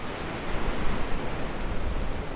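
Waves wash in at Clearwater Beach on a cold, nearly deserted day, a steady broadband rush of surf with a wind-like roar and no voices.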